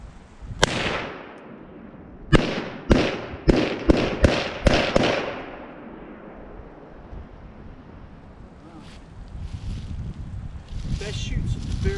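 Outdoor shooting of an AMT Automag 2 stainless steel pistol: one sharp shot, a pause, then a rapid string of six loud cracks with echoing tails, followed by wind noise and someone speaking.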